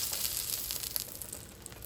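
Eggs sizzle in a frying pan with a steady, fairly quiet crackling hiss and scattered small pops, with no talk over it.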